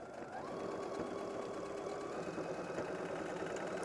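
A sewing machine back stitches along a fabric bag handle, running continuously with a fast, buzzing mechanical chatter and a light rhythmic knock, close and steady throughout with no voices.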